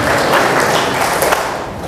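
Church congregation cheering and clapping in praise of Jesus during a worship service, a dense, steady wash of applause and voices with no break.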